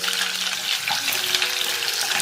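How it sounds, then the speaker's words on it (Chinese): Chopped onion pieces frying in hot oil in a small saucepan over low heat, a steady, dense sizzle that stays close and even throughout, with nothing else competing. "小火热油，把洋葱撒下"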